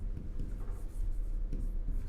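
Chalk or marker scratching on a board during a geography lesson, a continuous run of short strokes and taps at moderate volume with no talk over it.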